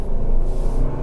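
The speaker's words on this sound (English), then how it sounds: "So if I step on the gas like this" A 6th-generation Toyota 4Runner, the non-hybrid version, accelerates as the gas pedal is pressed, giving a loud, close cabin rumble and a rising engine note over about a second.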